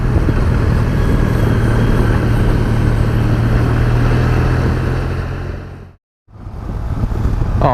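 A motorcycle rides along a road in Slovenia, its engine a steady close drone with heavy wind rush, briefly cutting out to near silence before resuming.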